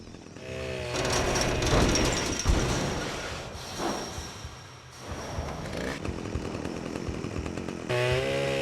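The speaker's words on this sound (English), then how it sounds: "we use his own chainsaw to cut his hands off" A chainsaw from the PS2 game Manhunt snarls and revs loudly, its buzzing engine rising and falling in bursts with heavy impact thuds mixed in, close and harsh throughout.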